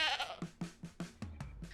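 A goat in the video game Ranch Simulator bleats in a quick series of about six short, wavering calls at a steady beat, close and clear with nothing else heard.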